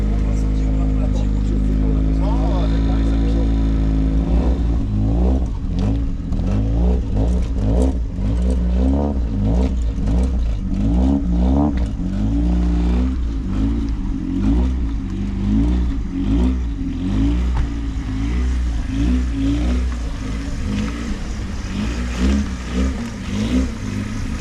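A petrol lawn mower engine runs loud and close, with a steady low drone that sputters and pulses into rapid rhythmic firing, and people talk over it.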